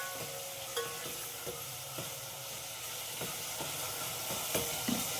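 Goat mutton, already steamed and cooked, stirred in a pan with a steady sizzle underneath and a string of spoon scrapes and clinks at irregular intervals, close and fairly loud.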